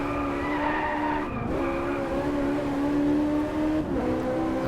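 Tyres skid and squeal continuously as a car drifts through a tricky left-hand corner on a wet, rainy track in Driveclub, with the engine droning underneath and pitch shifts during the slide.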